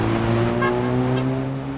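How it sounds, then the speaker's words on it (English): A car driving past on a street, a loud, close engine drone with a steady tonal whine that fades slightly as it moves away. "A car just drove past, honking its horn."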